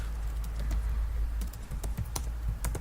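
A computer keyboard being typed on nearby, an uneven run of crisp key clicks over a low steady room hum, with no voices.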